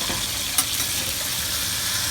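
A mahi-mahi fillet sears in a hot pan, a loud steady sizzle and crackle with one brief sharp pop near the start and no voices.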